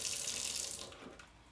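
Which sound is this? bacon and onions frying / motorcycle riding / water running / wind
water running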